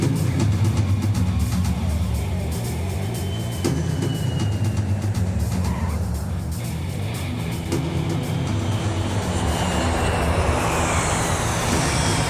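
A Boeing 757-type airliner approaching and landing on runway 04, a loud sustained jet roar with broad rushing noise that shifts in pitch as it passes.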